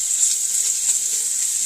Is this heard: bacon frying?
yes